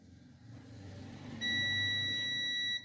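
A UNI-T multimeter in continuity mode sounds one steady, high electronic beep lasting about a second and a half, clear and close over a low background hum.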